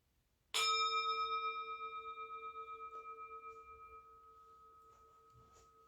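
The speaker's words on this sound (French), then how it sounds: "désolée de ce petit gong final un peu brutal peut-être" A single gong stroke closes a meditation session, a sharp, loud strike followed by a long, pulsing metallic ring that slowly fades over several seconds in an otherwise quiet room.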